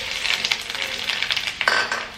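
Ginger and garlic dropped into hot oil in a pan for a tin fish curry with potatoes, giving a steady crackling sizzle with scattered clinks of a spoon against the pot, close and fairly loud.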